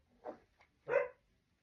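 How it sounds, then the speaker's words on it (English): A collie barks twice: a soft short woof, then a louder, fuller bark after a brief pause, heard alone at moderate distance against a quiet background. "Just as the collie starts to bark."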